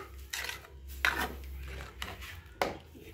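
A spoon stirs sweet pongal in a pot, with several scraping, clinking strokes at an uneven pace, close and fairly soft.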